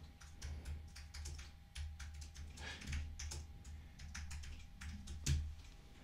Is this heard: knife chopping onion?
no